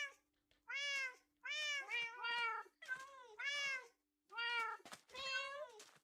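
Cats in a video game, including a new Royal variant, meow over and over: six drawn-out, tonal calls in a steady sequence, clear and close with short silent gaps between them.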